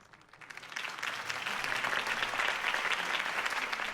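A large crowd at a campaign rally for Harvey Dent bursts into applause that swells quickly and then holds as a dense, sustained wash of clapping.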